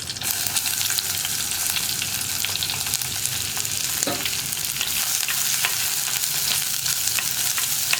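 Onion, curry leaves and dried chillies fry in hot oil for a tomato theeyal, giving a loud, continuous close crackling sizzle with brief stirring scrapes.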